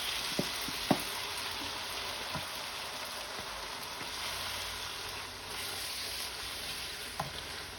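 Shrimp frying in Italian dressing in a pan, a quiet steady sizzle with a few soft knocks and utensil taps.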